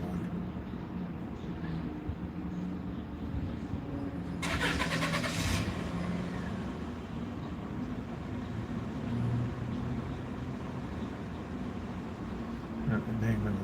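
A truck engine rumbles nearby in a steady, continuous low drone, with a short burst of hiss partway through and a faint voice now and then.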